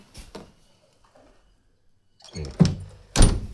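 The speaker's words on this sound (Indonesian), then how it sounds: "Pintu ini nggak bisa nutup" A door that can't close fully because it jams against something is pushed shut, giving two dull, close thunks about half a second apart after a quiet stretch with faint knocks.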